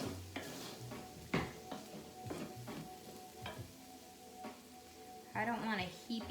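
Vegan taco filling being stirred in a frying pan, with bursts of spoon scraping and clatter over a low sizzle, while a voice talks now and then.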